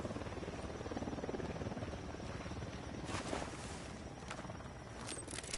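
Unidad military helicopter in the tactical shooter game Ghost Recon Wildlands, a steady rotor drone and buzz that persists throughout, with a few brief sharper bursts of noise layered over the continuous hum.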